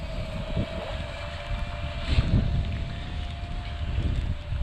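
Strong gusts buffet a Thieye Dr.X drone flying outdoors in rain and wind, a steady roaring rush with a thin motor whine running through it, loud and close to the microphone.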